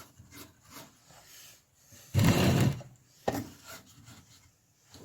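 A metal connector is screwed into wood by hand, with soft scraping twists and a loud grinding burst in the middle, then a sharp tap and more quiet rubbing.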